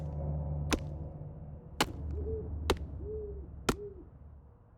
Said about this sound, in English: that's an owl at least